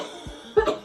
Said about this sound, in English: I've got a really bad cough